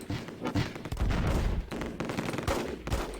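Gunfire in the Close Combat video game: bursts of rifle and machine-gun shots crackling in quick, uneven volleys, loud and close, with dense overlapping reports and no talking.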